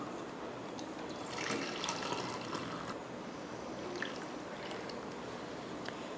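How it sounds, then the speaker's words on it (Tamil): Water poured from a tumbler while measuring it for cooking, a steady splashing trickle with brief louder gushes, close and continuous, no talking. "இப்போ நம்ம டம்ளரில் தண்ணி அளந்து ஊற்றணும் இல்லையா"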